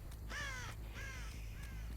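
Crows caw in the horror video game Dead by Daylight, three harsh calls in a row, fairly close and clear over a low background rumble.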